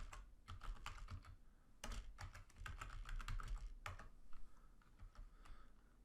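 Typing on a computer keyboard to enter a number into business software, rapid uneven clusters of light key clicks with short gaps, close and moderately quiet, no voices.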